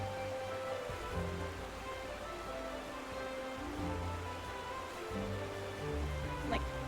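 Steady rain falling in the FF14 VR video game, a dense even hiss spread across the whole stretch with a low rumbling undertone, continuous and moderately loud, with a few faint murmurs beneath.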